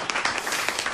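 Audience in a hall during an aviation talk show bursting into brief applause, a dense bright patter of clapping lasting only a moment at moderate loudness.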